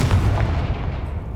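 A fiery Confringo spell explosion in Hogwarts Legacy booms as a deep, loud blast, then rumbles and fades over about a second.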